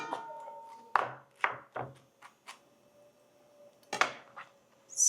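A knife roughly chops fresh peaches on a cutting board: about seven separate sharp knocks in uneven bursts with quiet gaps between, close and clear.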